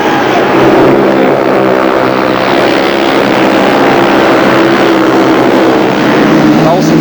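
Jawa speedway motorcycle engines roar continuously at the 1979 Intercontinental Final, a loud, dense, droning buzz of several bikes racing around a big circuit, with a commentator's voice over the top.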